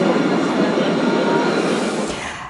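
A tram rolls through a city street, a steady broadband rumble of wheels on rail that holds loud and even, then eases off near the end as it passes.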